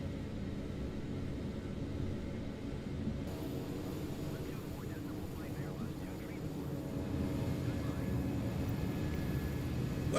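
Engine drone of a Local Legend 17 aircraft climbing after takeoff in MSFS 2020, a steady broadband rumble and hiss that holds level throughout, with a voice talking under it.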